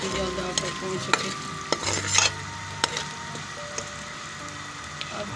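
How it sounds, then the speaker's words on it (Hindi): Onions frying in a pan while being stirred: a steady sizzle runs throughout, with repeated sharp scrapes and knocks of the spoon against the pan, close and fairly quiet. "ये प्याज फ्राई हो गया"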